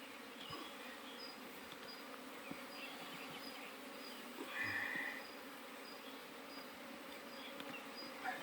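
Honeybees buzz steadily around an open hive during an artificial swarm split, a dense, continuous insect drone close by that swells briefly as bees pass near, with no voices.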